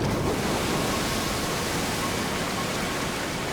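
Steady rushing water flows under a bridge in the video game Darksiders II, a dense, even wash of broadband noise holding at constant loudness throughout with no voices.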